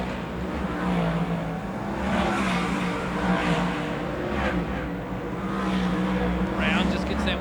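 Speedway race cars at Rotorua Speedway roar down the pit straight, engines revving loudly and continuously as they pass close by, with a commentator talking over the noise throughout.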